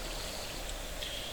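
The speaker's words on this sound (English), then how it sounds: "the water will follow the path of least resistance and simply flow into the trench" Steady, soft wash of flowing water in Minecraft, a continuous trickling stream running alone at low level with a faint brighter hiss midway through.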